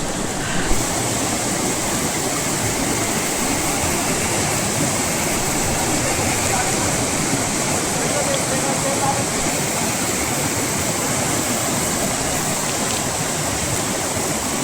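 The swollen Chiplati river near a village outside Dehradun rushes past in a loud, unbroken roar of turbulent water that stays steady and close for the whole stretch.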